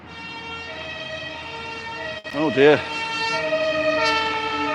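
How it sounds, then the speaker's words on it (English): A fire engine siren rises and falls briefly at mid distance, its wailing sweep standing out over steady outdoor traffic rumble on a walk, with a voice speaking nearby. "Fire engine."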